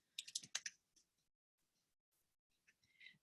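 Short bursts of computer keyboard keystrokes, quick clustered clicks at first, then sparse taps separated by quiet gaps, close and fairly soft with no talk.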